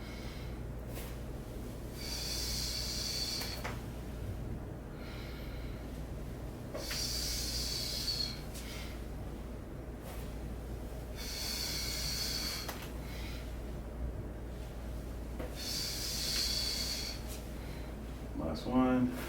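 Slow, repeated breaths during an alternating lateral lunge exercise, four drawn-out airy bursts at a steady pace over a constant low background hum.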